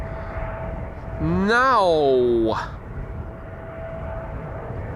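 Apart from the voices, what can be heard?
airplanes taxiing at Amsterdam Schiphol Airport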